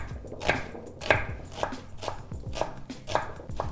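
Red onion chopped on a board for a veggie omelet, a series of sharp knife strikes spaced about half a second apart, close and fairly crisp with no talking.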